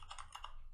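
Quick keystrokes on a custom Bluetooth keyboard, a few faint, close clicks in under a second.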